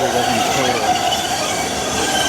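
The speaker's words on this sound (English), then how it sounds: "Got a train, Type 8 in the front." A Boston Green Line trolley led by a Type 8 car passes close by on Commonwealth Avenue, a loud continuous rumble with high squealing wheels and a rail hiss across the whole stretch.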